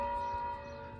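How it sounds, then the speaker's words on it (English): Church bells ringing at a distance, a sustained metallic tone fading slightly over a single second with a faint low rumble beneath. "that was good timing for the bells"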